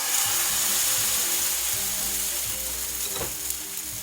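A steady, hissing sizzle of batter thickened with porridge oats frying as a pancake in a pan, continuous and close with faint clicks and no talk.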